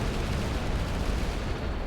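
Explosion sounds in a shoot'em up game form a steady, loud wash of overlapping booms and crackle with no break.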